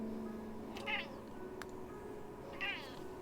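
A cat named Portia meows twice indoors, two short, fairly quiet, rising cries about two seconds apart with faint room noise between them.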